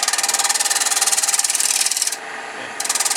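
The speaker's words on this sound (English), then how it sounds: "Shaping this up and doing the shear scraping" A shear-scraping tool runs along spinning wood during lathe hollowing, giving a loud, steady, rhythmic rasping scrape that briefly softens and thins near the end before the full scraping resumes.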